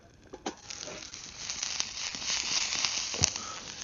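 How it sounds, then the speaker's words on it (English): Seasoned shallots sizzle and crackle in a pan on a wood-burning Firebox stove on a cold winter day, a close, steady frying hiss with a few sharper pops and stirring sounds. "shallots are cooking up good"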